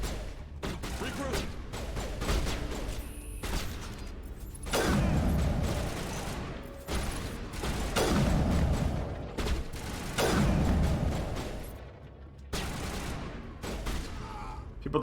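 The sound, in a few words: sniper rifle gunfire in video game Mass Effect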